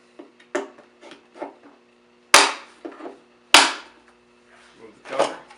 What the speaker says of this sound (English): take your tool that comes with the blower, a flat screwdriver, and those pop open really easy